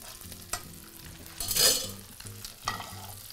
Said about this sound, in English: Our pan perdue is just starting to come together, just starting to come up to temperature